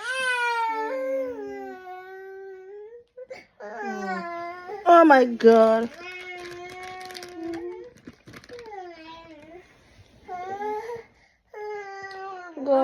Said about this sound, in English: You're busy screaming.